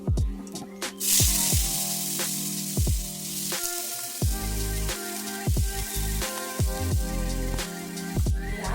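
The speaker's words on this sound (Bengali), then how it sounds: "আলু ভাজা এদিকে আলু ভাজা চাপিয়ে দিচ্ছি" Potatoes frying in a pan in a home kitchen, a continuous sizzle and crackle with repeated sharp clinks and knocks of utensils throughout, no voices.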